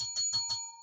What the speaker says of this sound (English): Ring the bell for them.